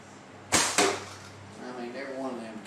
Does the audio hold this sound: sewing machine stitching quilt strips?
no